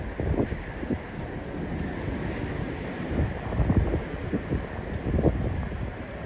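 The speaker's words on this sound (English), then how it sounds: "the wind is barreling down the West Side Highway right now" Gusty wind sweeps down the West Side Highway in Manhattan at night and buffets the microphone in a steady roar that surges in loud bursts, with no talking.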